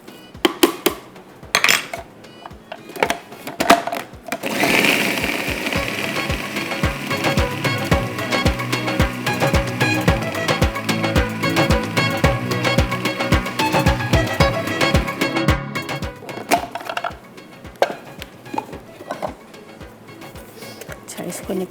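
A food processor grinds a beef mixture for shami kabab, starting with a few short pulses and then running in a steady, loud whirring churn with rattling blades. Near the end it drops back to brief bursts.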